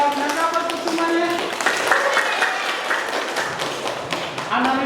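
A classroom group claps for about five seconds, with dense, steady applause and a few voices murmuring underneath.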